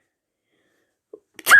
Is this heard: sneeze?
yes